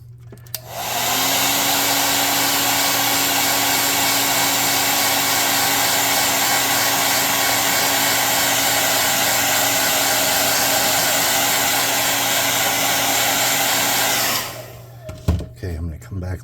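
A handheld air blower runs steadily for about fourteen seconds, drying paint on a handmade craft puzzle map, a loud continuous whoosh with a faint hum, then cuts off followed by brief handling clatter.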